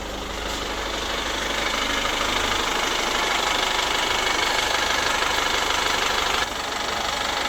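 A Chevrolet Captiva FL diesel engine revived after sitting dead for six years runs steadily close by, with a rough, knocking idle that stays even throughout.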